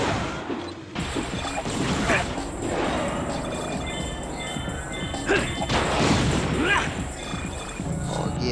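A car is smashed in the Ben 10: Protector of Earth video game with repeated crashing, booming impacts over busy game effects, while a person talks excitedly throughout.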